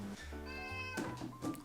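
Maya, a Siamese cat, meows before feeding: a couple of drawn-out, tonal meows followed by shorter calls, close and clear, with no talking.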